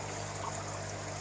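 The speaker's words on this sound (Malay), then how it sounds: "Air bubble supaya memberi kestabilan ataupun untuk menaikkan kadar oksigen terlarut dalam air baja saya ni" Air bubbler aerating plant nutrient water in a hydroponic growing system, a steady soft bubbling trickle with a constant low hum underneath, continuous and close.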